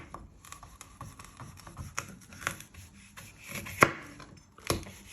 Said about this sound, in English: And you just want to finely slice it.